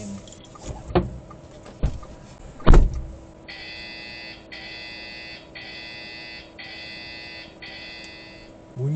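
A Gocar ride-hailing order notification chimes from a phone in an electric car, a repeating series of five bright electronic tones after a few soft thumps and handling knocks.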